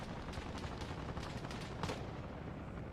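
Distant gunfire in the military shooter Arma Reforger, a steady clatter of shots under a dense battlefield rumble, with a few slightly sharper bursts standing out near the end.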